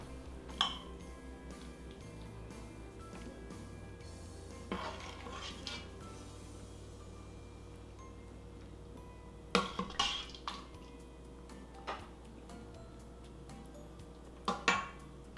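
A metal spoon scrapes and clinks against a dish while baked beans are spooned over a baked potato, with sparse sharp taps spread across a quiet kitchen background and no speech.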